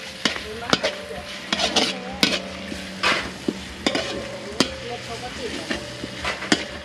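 Chili and garlic stir-fry in hot oil in a wok, a steady sizzle broken by repeated sharp scrapes and clanks of a utensil against the metal at irregular intervals, close by.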